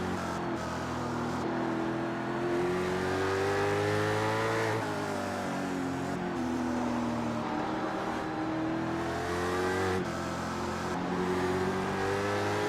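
A race car engine in the iRacing simulator drones through a victory and cool-down lap, revving up and easing off in repeated swells with gear changes, steady and close, no talk.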